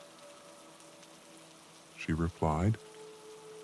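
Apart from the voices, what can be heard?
rain falling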